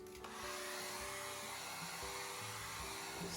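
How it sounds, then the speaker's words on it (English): Hair dryer blow-drying a wet acrylic painting, a steady, loud whooshing motor roar with a constant hum, running continuously close by without voices. "So I've just blow dried it"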